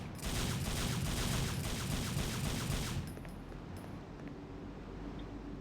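Twin pistols fire in Gunslinger style in the video game Devil May Cry 3, a dense rapid volley of shots lasting about three seconds before dropping to a quieter, steady background.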